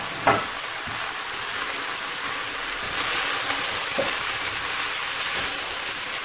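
Chicken, capsicum and green onion stir-frying in a pan, a steady close sizzle with a few stirring clinks and a louder burst of frying partway through, no talking.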